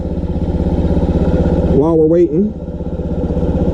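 A Honda Ruckus scooter engine idles steadily while warming up, a close, even low rumble that runs the whole time, with a person talking over it briefly.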